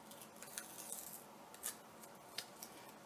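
Paper being cut or torn by hand, faint rasping and snipping with a few crisp sharper rips, quiet and close with no talking.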